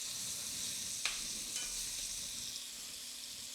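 Elk meat browning in enamel cookware for green chile stew, a steady soft sizzle and fry hiss throughout with a couple of faint stir clicks, fairly quiet and alone.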